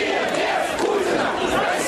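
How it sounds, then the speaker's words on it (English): A Moscow street protest crowd chanting against Putin, with a dense roar of many voices shouting together in one continuous wash of sound. "They chant "Russia without Putin" and "Putin resign.""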